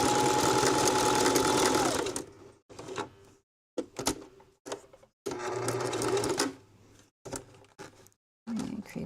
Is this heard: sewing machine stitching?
yes